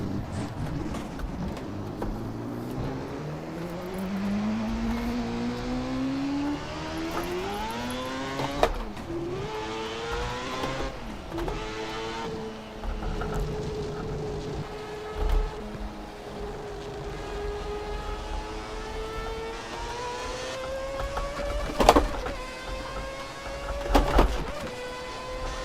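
A 500HP Lexus GS300 in Assetto Corsa revs hard with a rising, sweeping engine tone, climbing through gears with brief shift dips and loud, steady drive throughout.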